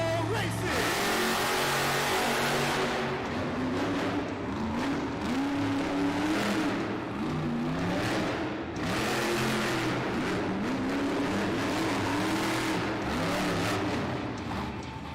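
The Megalodon monster truck revs hard on the racing track of a Monster Jam arena, its roaring engine swelling and dropping in repeated pitch sweeps beneath loud crowd noise, with an announcer's voice over the top.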